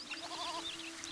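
Sheep bleating in the city-building game Zeus: Master of Olympus, a short wavering cry over a steady low hum, fairly close and alone.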